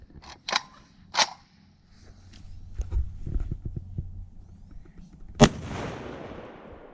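Shots from an FPK rifle chambered in 7.62x54R fired at a police car door panel, with two sharp cracks early, scattered handling clatter, then one loud nearby blast trailing into a decaying echo.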